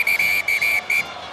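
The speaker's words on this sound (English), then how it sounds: "And the referee has blown his whistle." A rugby referee's whistle sounds loud and shrill in four quick blasts at a France versus New Zealand match in 2009, with faint crowd noise underneath.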